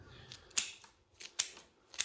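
Shears snip through bonsai roots at the corners of a mallee-style tree's root ball so it fits a new pot: three crisp, close cuts spaced evenly, each a sharp short snap, with faint rustling between.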